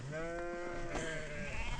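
Sheep and goats bleat on a high mountain pass, a couple of close, wavering calls overlapping one another over a low outdoor background, with a brief rustle at the end and no speech.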